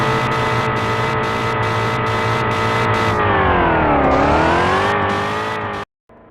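Ford Mustang engine driven in a village mode of a video game, a loud continuous drone that steadies, dips and climbs again with revving, then cuts off abruptly near the end.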